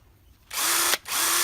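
A power drill whines loudly into wood in two close bursts, with a brief pause between them and no talk.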